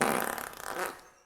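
A single fart sound effect gives a short wet, sputtering blast of about a second that trails off to silence.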